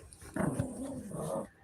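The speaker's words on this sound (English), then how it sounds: "I have a dog that aspirates when he has an attitude." A pet dog growls while playing with a sock, a low rumbling snarl that rises and holds for about a second, close to the microphone with no talking over it.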